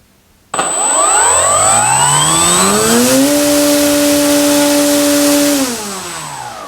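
An electric RC plane motor on a 6S battery spinning an APC 15.8 propeller for the Skynetic Bison XT STOL: abrupt start, a rising whine that holds at a loud, steady high pitch, then winds down near the end.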